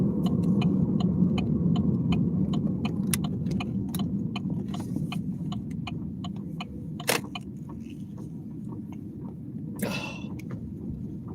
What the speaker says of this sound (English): That's not a happy sound at all. Sounds like rock in my tire.